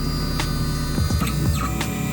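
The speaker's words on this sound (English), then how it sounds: "Now that I've pressed this button, the printer calibrates itself." A homemade low-cost braille printer calibrates itself, giving a steady electrical hum with a few short motor whirs and mechanical clicks sliding past close by.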